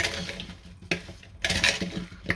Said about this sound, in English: let's mix it all nicely